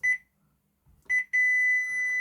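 A digital multimeter in buzzer continuity mode tests a Dawlance Ecostar DC inverter AC outdoor PCB. Two quick pairs of shrill electronic beeps are followed by a steady, unbroken tone that holds loud and close.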